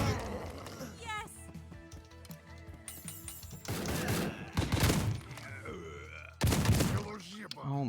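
Bursts of machine gun fire from the video game Door Kickers: Action Squad erupt in loud, dense volleys, separated by quieter stretches of other in-game noise.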